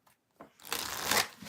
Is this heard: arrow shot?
no